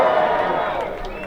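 A rally crowd in Birmingham cheering and shouting, a broad roar of many voices that swells briefly and then fades slightly, loud and close.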